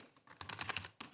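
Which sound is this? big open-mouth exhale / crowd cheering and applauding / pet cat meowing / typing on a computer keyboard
typing on a computer keyboard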